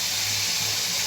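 Rui fish belly pieces frying in oil in a pan for a Bengali curry with eggplant: a constant close, loud hiss and sizzle with no talking over it.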